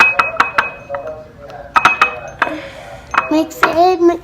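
Slime ingredients are mixed in a container, producing close, irregular clinks and taps of a utensil against the vessel, interspersed with a voice speaking and exclaiming.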